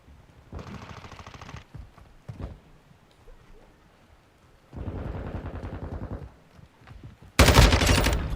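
Bursts of rapid automatic gunfire from the video game Call of Duty Modern Warfare II, featuring the Lachmann-556 rifle, come in separate loud volleys with short pauses, the last one the loudest.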